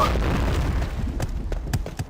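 A grenade blows up in a shooting video game, a heavy low boom followed by scattered smaller bursts and pops over about two seconds, loud and close.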